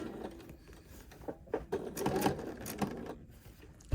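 A sewing machine stitches threads for dimensional curves in quiet, uneven bursts of mechanical whirring and clatter, with brief pauses between runs and a sharp knock at the end.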